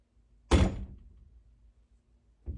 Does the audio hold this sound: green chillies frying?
no